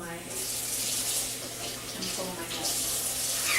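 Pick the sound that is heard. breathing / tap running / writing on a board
tap running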